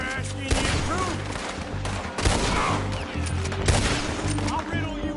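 Rapid bursts of gunfire in the Red Dead Redemption video game, dense overlapping shots and a heavy rumbling backdrop, loud and continuous throughout with voices faintly mixed in.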